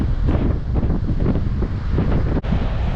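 Strong wind buffets the microphone over breaking ocean surf at Witsand beach in South Africa, where the Breede River meets the Indian Ocean. The roar is loud and continuous, with a brief dip partway through.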